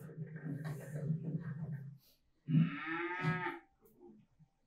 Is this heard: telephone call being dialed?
no